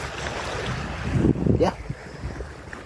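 Waves wash onto a beach at sunset, a broad rushing surge that swells and recedes under gusty wind noise on the microphone, with a brief spoken word from someone nearby.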